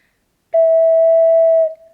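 A single sustained ocarina E note, steady and clear, played alone after a brief silence and held for over a second before tapering off.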